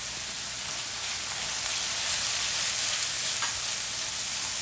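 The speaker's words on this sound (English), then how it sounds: "basically it is frying" Garlic and other ingredients frying in oil in a pan over medium heat while cooking a lobster restaurant dish, a loud steady sizzle and hiss that holds unbroken without any talk.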